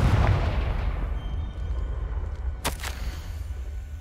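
Confringo blasting spell cast in Hogwarts Legacy, a single sharp explosive crack partway through, over a low rumbling game background.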